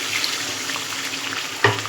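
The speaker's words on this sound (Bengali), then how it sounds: "জল দিয়ে দেবো" Water splashes into a pan of pointed gourd frying in oil for a white-mustard potol bhapa, over a steady hiss of sizzling, with a sharper burst of spitting near the end.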